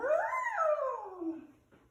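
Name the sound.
person imitating an elephant noise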